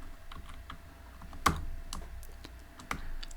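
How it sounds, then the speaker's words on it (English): Keys on a computer keyboard tapped in quick, uneven bursts of clicks, close and fairly quiet, with one sharper keystroke standing out midway; no talking. "I'm gonna type"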